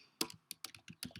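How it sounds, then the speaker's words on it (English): Quick bursts of keystrokes on a computer keyboard as search terms are typed, about ten crisp clicks in uneven rhythm, close and quiet with nothing else heard. "simply typing in my search terms"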